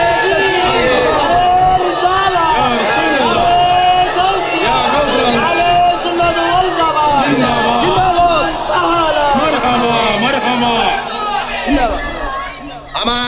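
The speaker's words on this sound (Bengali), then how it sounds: "দুই হাত তোলেন, সোজা করেন, একটা স্লোগান তোলেন" A large crowd at a religious sermon chants a slogan loudly and in unison, voices rising and falling in repeated phrases that fill the space almost without pause.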